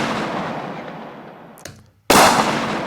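Layered gunshot sound effects for a film death scene: a long booming decay fades out, a short sharp crack follows, then after a brief silence a second loud, full-bodied blast erupts and rings on.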